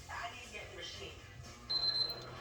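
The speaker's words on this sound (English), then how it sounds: "the timer is going off" A kitchen timer gives a thin, steady electronic beep partway through, over a person talking while fried rice cooks in a wok.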